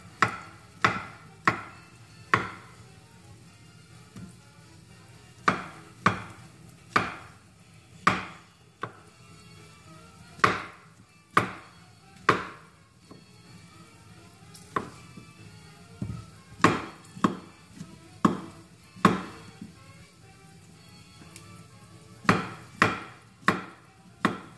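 A knife chops mushrooms on a cutting board in sharp, distinct knocks, loose clusters of two to four strokes separated by short pauses, close and clear with no talking.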